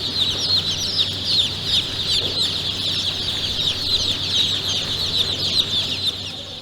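A crowd of chicks peeps continuously at a hatchery, a dense, steady chorus of high chirps that stays loud throughout with no talking.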